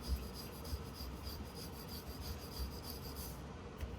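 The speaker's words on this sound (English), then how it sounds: "I like to use this chisel just to remove any excess that could fall off in the furnace" A chisel scraping excess material off a 3D printed castable resin piston, a faint, continuous rasping and rubbing with small irregular scratches, close up and quiet.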